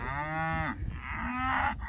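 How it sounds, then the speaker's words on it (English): Cattle moo in a corral, two drawn-out calls close by and fairly loud, the first long and sliding down, the second overlapping and rising, with no talk. "they're pretty docile cows"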